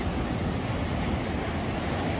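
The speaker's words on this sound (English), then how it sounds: "The waves gently lap against the sand" Ocean waves wash steadily against a sandy shore, a continuous broadband hiss and rush with no distinct breaks, close and fairly loud, with no voices.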